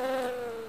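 Bees buzz close by in a steady, harmonic drone that holds for under a second without any other sound.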